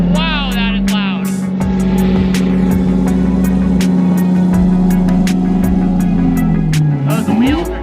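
Loud car engine fitted with a red carbon fiber intake, a steady droning roar that revs up toward the end, with clicking sounds and a person talking over it.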